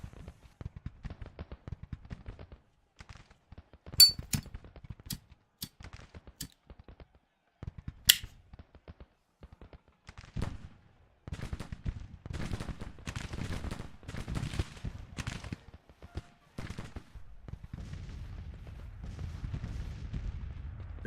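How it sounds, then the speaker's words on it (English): Artillery fire in a Civil War strategy game, Grand Tactician: The Civil War, heard as scattered sharp cannon reports and crackling volleys, some isolated and some clustered, followed by a denser rumble of continuous battle noise near the end. "it behooves us to get away from that artillery fire"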